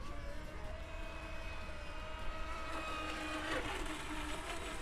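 A Volantex Vector SR80 Pro RC speedboat fitted with a 52mm propeller accelerates hard, its electric motor whining steadily and rising in pitch over a constant buzzing drone, heard from a moderate distance.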